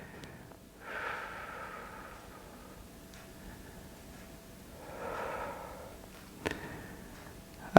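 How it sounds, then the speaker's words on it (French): Deep exhaling breaths during a stretching exercise: two soft, drawn-out breaths about four seconds apart, close and quiet, followed by a brief sharp click. "bien expirer"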